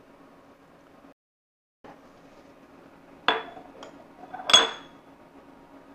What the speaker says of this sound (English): Now it's time for the oysters to go into these dishes.